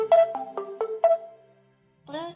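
A wireless Bluetooth speaker plays its power-on chime, five bright descending tones in quick succession followed by a short pause and then a rising voice-like prompt, clear and close.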